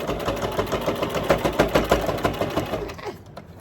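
Sewing machine stitching through a plastic zipper bag, a fast steady mechanical chatter of needle strokes that stays loud and even, then slows and fades out in the last half second, with no talking.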